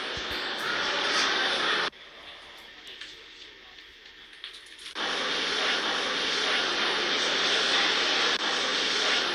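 Jet engines of an Austrian airliner during pushback at an airport gate, a steady loud broadband roar that drops away for a few seconds mid-clip before swelling back to a sustained drone.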